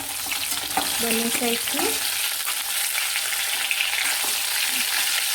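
Stuffed parwal (pointed gourd) fries in oil in a pan with a constant close-up sizzle, broken by stirring scrapes, while someone speaks briefly early on.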